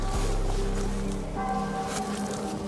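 A Masai 50SM motorcycle with a newly fitted MVT Premium ignition fires up and runs, a loud, steady buzzing engine note close by.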